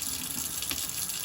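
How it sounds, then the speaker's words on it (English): Filtered tap water runs from a faucet in a steady, close rush while a clean Scotch-Brite pad scrubs under the stream. "So what you do is you run under the water and you just scrub it."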